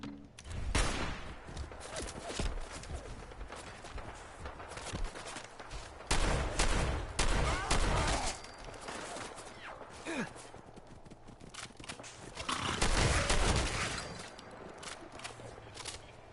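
Rapid bursts of gunfire from shooting in Fallout 4 crackle in dense clusters, with loud volleys around the middle and end, mixed with game noise and occasional voice.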